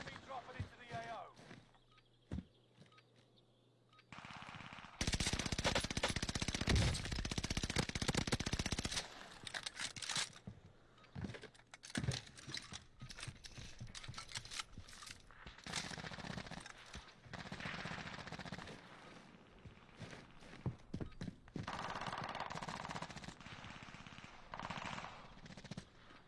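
Rapid automatic gunfire from a weapon in the video game Warzone, loud sustained bursts with repeated volleys over a long stretch, voices talking over the shooting.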